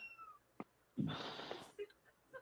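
A black cat named Elvira, all black except a small white tip on her tail, lets out one loud, close meow with a rising, wavering cry, between quieter room sounds and short faint chirps.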